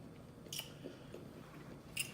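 Food from Steak n Shake is eaten at a mukbang, with soft, close chewing and a few faint crunchy bites and smacks spread over a quiet moment.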